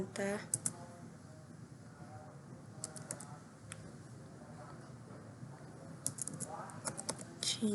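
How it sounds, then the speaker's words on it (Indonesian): Soft keystrokes tap on a computer keyboard as a command is typed into a server terminal, with quick clustered clicks near the start and end and sparse taps in between, under low room noise and occasional talk. "mari kita ketikkan perintah"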